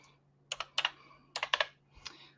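Computer keyboard typing, close and crisp: a few short bursts of clustered keystrokes separated by brief pauses, with no talking.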